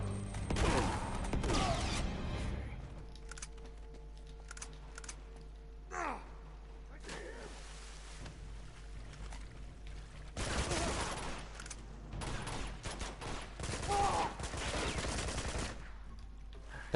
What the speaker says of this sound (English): I'll use the AK for this guy